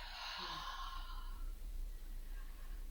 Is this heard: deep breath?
yes